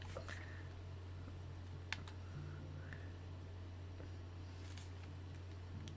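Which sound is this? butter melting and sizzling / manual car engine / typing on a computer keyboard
typing on a computer keyboard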